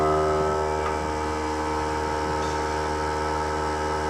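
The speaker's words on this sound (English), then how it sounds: "I don't know what's wrong with the darn compressor. It sounds like it's leaking." An air compressor runs in a woodturning workshop with a steady, loud mechanical hum and a hissing edge like leaking air, constant throughout with no talking.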